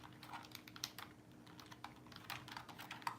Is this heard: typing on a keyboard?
yes